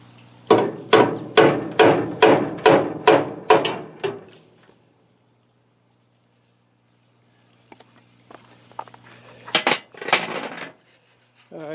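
A hammer strikes a punch eight times in a steady rhythm to dimple metal before drilling, during a plunger repair on a New Holland 273 baler; after a pause a few more clanks and knocks follow.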